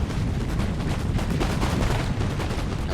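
Dense, continuous musket volleys from massed line infantry in Empire: Total War, a rolling crackle of overlapping shots with no pause across the stretch.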